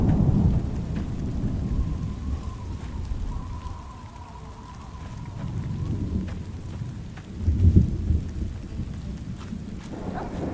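Rolling thunder over steady heavy rain in Fallout's Tale of Two Wastelands, a continuous low rumble that swells into a louder crack near the end, with no voices.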